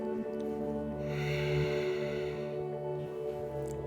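Deep, slow nasal breathing during a yoga pose, a long audible inhale and exhale with a soft snorting edge, close and quiet with no talk.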